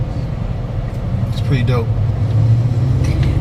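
A car rolls along the road with its engine freshly fitted with a new spark plug, giving a steady low rumble of engine and road noise from inside the cabin while a person talks over it.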